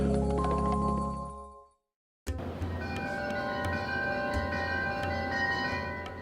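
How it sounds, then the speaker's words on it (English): Woodstock Java wind chimes ringing, sustained metallic tones that fade to near silence, then a fresh strike sets them chiming again with overlapping clear, resonant notes. "Stacy, ring the chimes"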